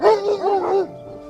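A single dog gives a short, high yipping bark that rises and falls in pitch, then breaks off abruptly, close and clear.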